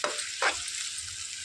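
Sliced onions and curry leaves sizzle in hot oil, a close, bright crackle that runs throughout, with a short flare of stirring partway through and no talking.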